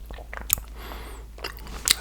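A piece of chocolate with strawberry pieces inside is bitten close to the microphone, giving a few crisp crunches and soft chewing sounds in a short quiet stretch, with no talking.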